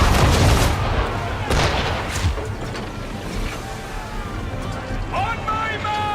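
Musket volleys from Assassin's Creed 3 crack out in sharp bursts, followed by a lingering rumble and shouted commands, with ship and sea ambience underneath.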